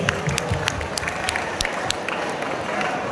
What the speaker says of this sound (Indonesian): Kita kasih aplaus untuk Jovan Fried Chicken.